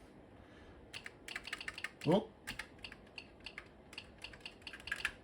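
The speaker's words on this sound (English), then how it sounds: "Keyboard's making a clicky noise." Clicky keyboard of a Visual 1083 Commuter computer, keys tapped in quick irregular bursts close by, with a brief spoken exclamation partway through.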